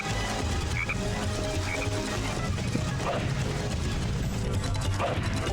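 Croaking of an evil frog in a video game, repeated throaty calls over a dense, continuous game soundscape with steady background noise.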